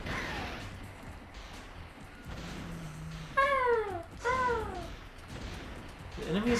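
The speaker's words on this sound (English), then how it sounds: "The enemies are just cats in this level." Cat enemies in the PS1 game Spyro: Year of the Dragon let out two clear, rising meows close together, with a third starting at the end, over game music and background effects.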